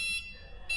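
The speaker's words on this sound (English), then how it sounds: "Every time you put machine on the reverse, it's going to make this noise." A Gio golf cart's reverse warning signal sounds as a steady high electronic beep, close and moderately loud, holding through most of a brief moment with a slight dip in the middle.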